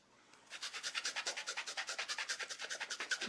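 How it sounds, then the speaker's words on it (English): A sponge dauber rubbed briskly back and forth over gold leafing on a stamped paper craft project, a steady rhythmic scrubbing of about a dozen quick strokes per few seconds, close and clear with no voices. "if you take a sponge dauber and just rub it over the top"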